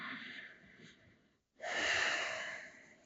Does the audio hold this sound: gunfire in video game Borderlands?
no